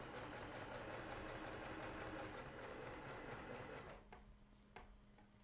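A sewing machine stitches through layers of a star sampler quilt, running steadily with a fast mechanical rattle for about four seconds before stopping, followed by a couple of faint handling clicks.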